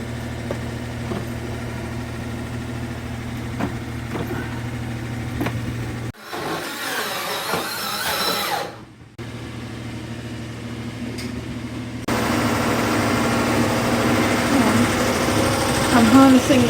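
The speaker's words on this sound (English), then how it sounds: "I'm harnessing the power of the big generator while it's on" A big generator runs at a steady drone with a constant low hum, powering shed work. The engine tone shifts and briefly drops out partway before resuming louder.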